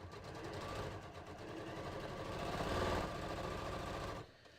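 Domestic sewing machine stitching a dart at a 2.4 stitch length, a rapid steady mechanical chatter that rises slightly in intensity before stopping abruptly near the end.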